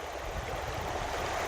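Water flowing steadily along a stream past a long, fairly deep pool with an eroded bank, a soft continuous rushing wash with low gurgling, close and unbroken.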